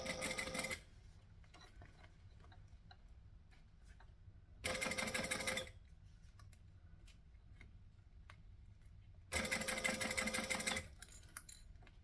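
Sewing machine top stitching vinyl on a travel bag, running in three short bursts of about a second each, separated by quiet pauses.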